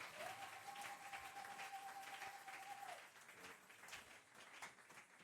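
A church congregation applauds in a steady wash of clapping, moderately distant, while a sustained tone hums for a few seconds before fading.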